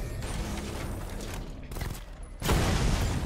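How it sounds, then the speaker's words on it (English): Chain gun fire in Batman: Arkham Knight, a fast, dense stream of rapid shots with mechanical rattle, swelling into a heavier burst near the end. "The chain gun's not powerful enough."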